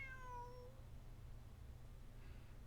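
A stray cat from the video game Genshin Impact gives one clear, rising meow, followed by a fainter short call over a low steady background hum.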